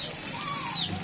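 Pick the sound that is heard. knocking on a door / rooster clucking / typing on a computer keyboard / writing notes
rooster clucking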